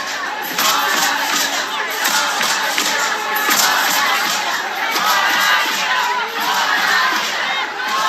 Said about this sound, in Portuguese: Aqui tem um vídeo aqui também de Copacabana e você vai ver o que as pessoas estão gritando.